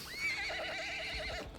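A horse neighs in Mount & Blade 2 Bannerlord as it rears, one clear wavering whinny lasting just over a second, close and alone.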